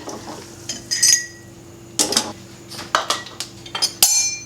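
Slotted spoon scooping apple slices into glass canning jars, with sharp metallic clinks and clatters in bursts over a low steady hum, close and loud, no talking.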